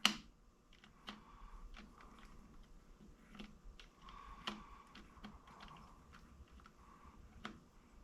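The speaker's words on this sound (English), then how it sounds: "I'm just gently rubbing the keys" Soft clicking and rubbing as a rag dampened with Simple Green and water is worked gently over the greasy keys of a Milltronics Partner machine keypad, with faint irregular ticks and taps close by in a quiet room.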